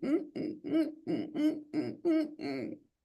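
A person imitates the clucky chitters of a Eurasian eagle owl: seven or eight quick, throaty vocal bursts in an even rhythm, close and clear with no other sound.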